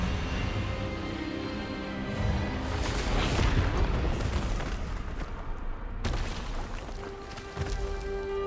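Expelliarmus spell blast in the Hogwarts Legacy video game, a dense, booming magical burst that swells loudly through the middle and then breaks off sharply, with a lingering rumble after.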